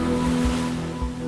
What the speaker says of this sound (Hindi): तूफान जॉर्ज की वजह से लहरें इस कदर बेकाबू हो चुकी हैं